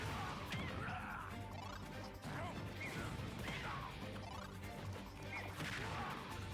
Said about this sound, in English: Diddy Kong hitting Lucario with the last hitboxes of all of these dash attacks